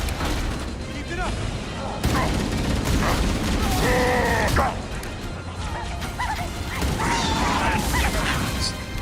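Gunfire in the Halo Campaign Evolved video game, sharp shots scattered through busy combat noise while people talk over the action.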